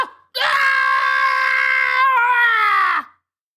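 A voice imitates a person screaming out, giving one loud, sustained, anguished cry of about three seconds with nothing else around it.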